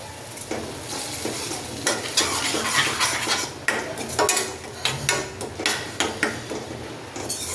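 Spice masala is stirred into chana curry in a pan, giving a busy mix of spoon scrapes and clinks against the metal with a faint sizzling underneath, fairly loud and close, in an uneven rhythm with no talking.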